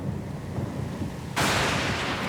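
A thunderstorm at sea in Pillars of Eternity II: Deadfire: a low, steady rumble swells suddenly into a loud, broad roar of thunder and pouring rain that holds to the end, with no voices.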